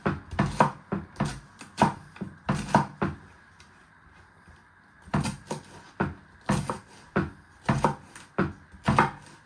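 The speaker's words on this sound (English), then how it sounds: "then turn it around and chop it into pieces" A knife chops vegetables on a board into fine pieces for slaw with onion and red cabbage: quick bursts of sharp, close knocks, a pause of about a second in the middle, then more rapid chopping.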